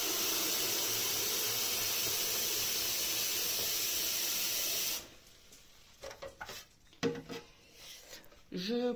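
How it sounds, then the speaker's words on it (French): Water from a kitchen tap pours steadily into a carafe, a loud even hiss for several seconds that stops abruptly, followed by soft clinks and light handling noises nearby. "Je prends, remplis une carafe."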